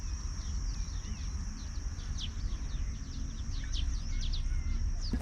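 Small birds chirp and call around a pond in a park, brief high tweets scattered over a steady outdoor hum of wind and distant traffic.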